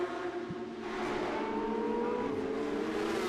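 Race cars run behind an all-electric Porsche Taycan safety car, a steady droning engine note with a slight rising whine, held at a fairly even level throughout.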